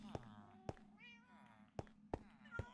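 Cats in the Parrotcraft video game meowing repeatedly in short, tonal mews, several in quick succession, with sharp clicks between them over a steady low hum.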